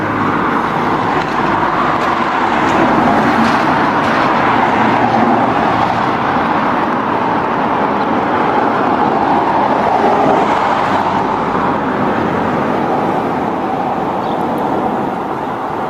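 Steady roar of busy roadway traffic, cars and other vehicles passing continuously at a moderate distance, a dense unbroken wash of engine and tyre noise throughout with no talking.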